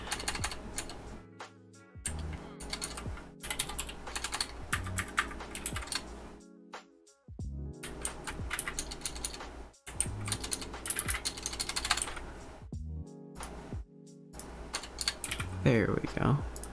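Rapid clattering keystrokes on a new computer keyboard, steady and close, broken by a few short pauses, with a voice talking faintly underneath at times.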